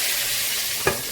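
Fish pieces frying in oil in a pan for Indian-style fish curry, a steady loud sizzle with one brief stir or clink near the end and no voices.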